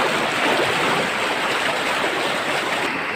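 A fast, dangerous jungle river rushes by nearby, a loud, continuous roar of churning water with no pauses.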